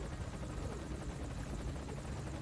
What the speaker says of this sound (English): the helicopter basically flies over this whole coast